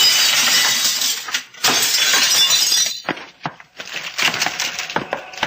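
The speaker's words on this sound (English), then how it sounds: "Watch out for the flying glass" Loud glass shattering in an old-time radio drama, a big crash of breaking glass with splintering debris, then scattered tinkling pieces falling and clinking for several seconds.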